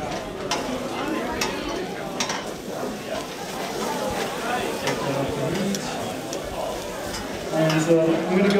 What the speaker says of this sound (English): I just grabbed the basil leaves and I dropped them in a fryer, and at 300 degrees